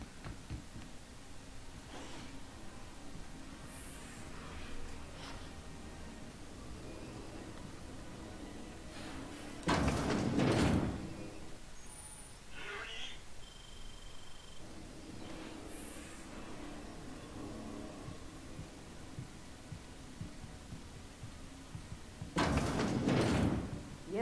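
Doors sliding open and shut in The Outer Worlds video game, two loud bursts of noisy hiss standing out against a steady ambient hum, with faint incidental clicks and tones between them.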